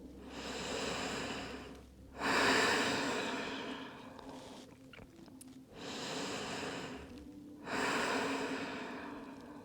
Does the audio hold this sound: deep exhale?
yes